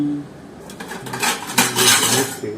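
A plate clatters and scrapes against other dishes in a home bachelor kitchen, close and clear, a few metallic clinks and rattles building over a couple of seconds.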